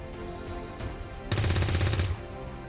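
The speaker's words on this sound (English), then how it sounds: "I think I want to let our rookie take a shot" A rookie soldier's rapid burst of automatic gunfire in XCOM 2, a loud, close stuttering volley lasting under a second after a quieter stretch of game ambience.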